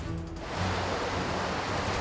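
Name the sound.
waves at the beaches of Rio de Janeiro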